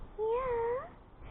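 A single drawn-out meow from a cat, close and clear, rising slightly then fading, over faint background noise.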